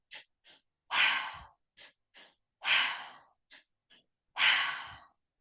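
Fast breathing exercise, quick sharp inhale-exhale bursts in a repeating pattern of short and longer breaths, close and clear against silence.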